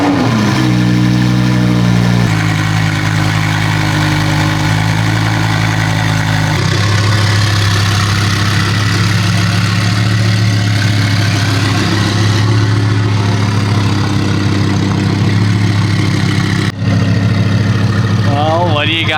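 A Lamborghini with a twin turbo kit runs at a steady deep idle, the engine note shifting slightly after a few seconds and then holding a loud, even rumble while someone talks over it.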